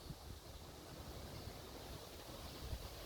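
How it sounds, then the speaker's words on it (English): Steady breezy wind blowing outdoors on an afternoon in a residential neighborhood in Altamonte Springs, a continuous broadband rush with low gusty rumbles across the mic, no voices. "It's a nice and breezy day here in Altamonte Springs."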